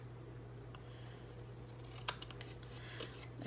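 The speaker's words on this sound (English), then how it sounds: "So we're gonna trim this down, and I'm just gonna start at the point up here and kind of go at an angle like that." Scissors trim a paper baby card in a quiet room: a few crisp snips land close to the microphone, with one sharp cut followed by a short burst of smaller cuts.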